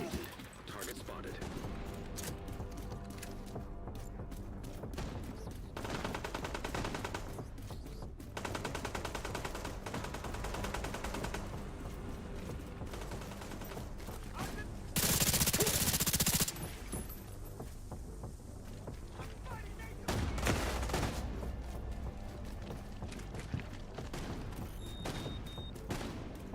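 Sustained automatic gunfire in The Division 2, rapid bursts stacking into dense fusillades with a louder close volley midway, while a player talks over the shooting.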